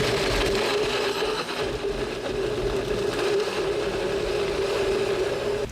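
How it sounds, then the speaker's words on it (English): A NutriBullet blender whirs steadily as it blends two eggs with seasoning. The loud, close motor drone holds an even pitch throughout and sounds alone, with no talk. "Time to give her a blend"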